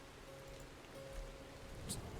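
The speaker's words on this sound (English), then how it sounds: "Just Jody and Sadhbh getting rained on again. What else is new? Rains all the time here." Rain falling in the RedM Red Dead roleplay game, a soft, even hiss of steady rainfall that stays faint and constant throughout the short stretch.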